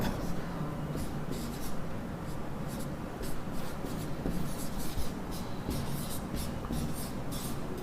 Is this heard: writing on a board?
yes